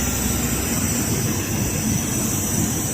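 A mini jet plane roars loud and steady, a dense engine rush with a high whine on top that holds without a break, close and alone without voices.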